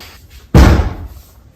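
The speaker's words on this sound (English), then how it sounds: "there's a loud bang, and the room door suddenly opens" A room door bangs open with a single loud, sharp slam that rings briefly before fading, following a stretch of near silence.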